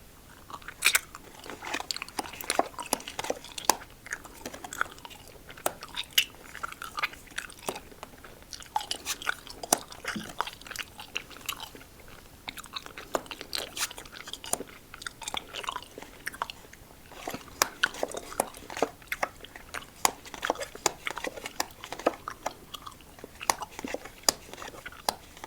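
Someone chews sweet, chewy Japanese grape candy close to the mic, giving a continuous run of moist, squishy bites and smacking chews with irregular rhythm, steady and intimate.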